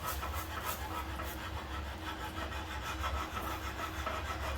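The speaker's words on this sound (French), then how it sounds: "Le feu à fond et avec la spatule, on va titiller nos œufs pour en faire une belle omelette" A spatula works beaten eggs in a frying pan over high heat for a wild asparagus omelette, giving a steady close sizzle and frying hiss with scraping rubs across the pan, no talking.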